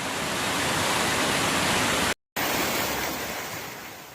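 Floodwater rushes loud and continuous through a town in the Hérault department of southern France after heavy rainfall. The roar is broad and steady, broken by one very short silent gap.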